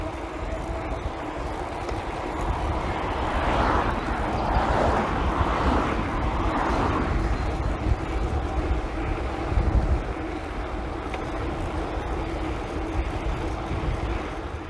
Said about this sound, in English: this little beastly bike getting up the biggest hill that I can find